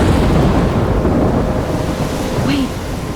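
A thunderstorm in the video game Life is Strange, a loud, continuous rumbling roar of thunder, wind and rain that fills the whole stretch, with a faint voice-like tone briefly rising above it.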